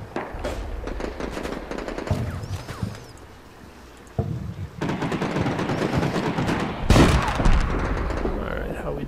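Bursts of automatic gunfire from a squad in the video game Combat Mission Shock Force, during urban combat in Al Amarah, crackle in dense volleys with a brief lull midway and a loud sharp burst near the end.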